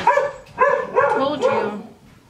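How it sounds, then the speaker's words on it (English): A pet dog barks and yips indoors in a handful of short, close, urgent bursts, sounding somewhat whiny. "My dog is about to bark because my kids are home."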